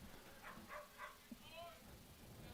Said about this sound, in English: That dog agrees with me, Stephen.